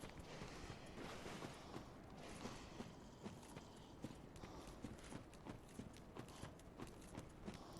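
Quick, light pitter-patter footsteps approach from behind the player in Dark Souls 3, a faint, continuous run of soft steps over low game ambience.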